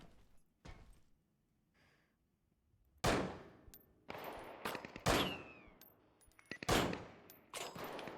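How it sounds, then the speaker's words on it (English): Gunfire in the survival shooter Deadside: a few sharp reports at first, then after a quiet stretch a run of loud, booming shots with echoing tails, spaced irregularly, with no talk. "Okay, I'm shooting. He's dead."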